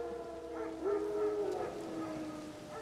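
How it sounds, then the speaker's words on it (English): Wild dogs howl in The Witcher 3 video game, with a drawn-out, rising-and-falling howl over an ambient game soundscape, moderately loud across the clip. "Wolves? No, wild dogs."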